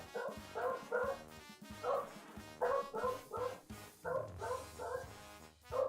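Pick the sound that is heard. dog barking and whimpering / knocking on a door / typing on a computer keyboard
dog barking and whimpering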